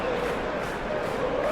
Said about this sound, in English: Well, the crowd clearly like what they just saw.